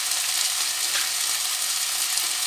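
Red curry chicken frying in a pan as it is stirred, a steady loud hiss of sizzling oil with a faint scrape partway through, continuous throughout.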